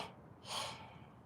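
One strong breath pushed out through the mouth during a live stretching and energy workout, a single breathy burst near the middle of a quiet background with no talking.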